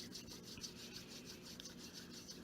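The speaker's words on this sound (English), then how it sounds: "We're going to rub our hands together." Two hands rub together in a quick, even back-and-forth rhythm, a faint, close, dry swishing friction repeated about a dozen times.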